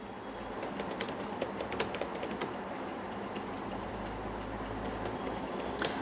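Fingers typing on a computer keyboard, a fast irregular stream of close clicky keystrokes over a low steady background hum, with no talk.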